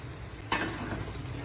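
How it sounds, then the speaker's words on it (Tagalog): A spoon scrapes and stirs through sizzling onions, carrots, hotdog, ham and chicken breast in a pot for chicken macaroni soup, with one sharp clink over a steady frying hiss. "Yan, halu-haluin para hanggang sa maluto."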